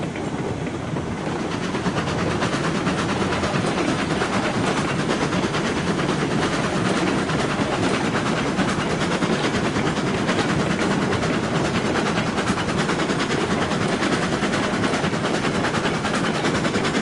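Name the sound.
train running on track in video game Railroads Online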